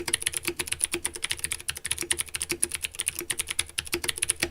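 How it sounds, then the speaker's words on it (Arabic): Clicky blue mechanical switches on a Ducky Project D Tinker75 keyboard are typed on in a fast, uneven stream of sharp, typewriter-like clacks, close and crisp, with no voices. "وده تبع الكليك سويتش، حاجة كده شبه الآلة الكاتبة بتاعت زمان، وصوته بيبقى بالشكل ده"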